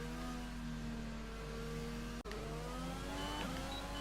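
Formula 1 car in F1 2020, on soft tyres, accelerating hard out of the pit lane onto the circuit at the French track; a steady high-pitched engine whine rises in pitch, with a sharp gear-change dip midway, loud and close.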